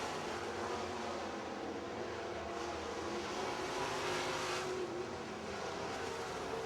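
Race cars lap Pittsburgh's Pennsylvania Motor Speedway in a steady, distant engine roar that swells slightly as cars pass, continuous and unbroken.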